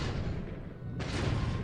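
Underwater explosion in the naval war game War in the Pacific: a dull, rumbling low boom that swells and then breaks into a loud, broad burst of noise about a second in, with no talk.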